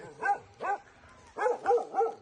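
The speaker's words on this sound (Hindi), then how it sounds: "कुत्ता भौंकन लगे है, देसी कुत्ता है" A native village dog in rural India barks five times in two quick pairs and a final trio, fairly close and loud, with no voices over it.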